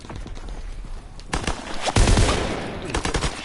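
Light machine gun in Call of Duty WWII fires rapid, dense bursts amid other battlefield gunfire, with loud cracks layered over a constant noisy backdrop.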